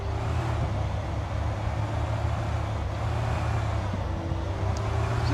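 A car in the Thief Simulator game drives along with a steady, droning low engine hum and broadband road noise, continuous and close throughout with no clear changes.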